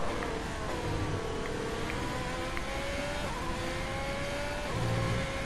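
An F1 race car engine in F1 2020 winds up and holds a continuous high whine, pitch climbing through gears over a constant loud roar, with no voices present.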